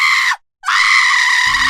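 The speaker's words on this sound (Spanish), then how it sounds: "la bruja gritó" A witch screaming in a dramatic audio story, two loud, harsh, shrill shrieks close up with a short break between them, and a low rumble entering near the end.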